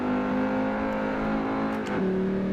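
Racing car engine in Forza Motorsport 4 on a European circuit, a loud sustained engine whine holding pitch, then a quick shift drop and renewed revving, close and alone.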